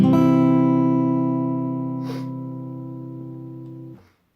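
A strummed guitar chord with the low E string left out rings out loud and sustained, then fades gradually over about four seconds until it is damped to silence, with a faint brushing noise partway through.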